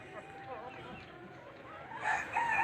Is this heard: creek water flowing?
no